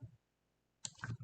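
A computer mouse gives a short pair of soft clicks after a quiet pause, close and faint, with no voice.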